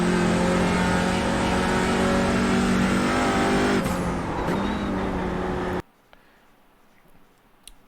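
A TCR race car engine in a racing video game at Sonoma, loud and close, droning steadily with throttle shifts for several seconds before dropping off sharply to a faint background, without any speech.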